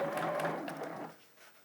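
A sewing machine stitching a patchwork quilt block, a soft close mechanical whir that runs for about a second and then stops, leaving a faint quiet tail.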